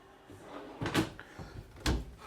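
A soft-close cabinet door on an RV kitchen island opens with a quiet latch click and a light thud, followed by a second muffled knock, close up in a quiet interior.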